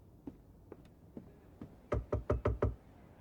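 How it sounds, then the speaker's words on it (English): Knocking on a door in the game Bookwalker: Thief of Tales: a few faint single knocks spaced apart, then a louder quick run of about six knocks, close and alone. "Who was that knocking?"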